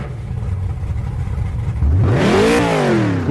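A car engine revs up sharply from a low rumble, its pitch climbing steeply then easing back down, loud and close.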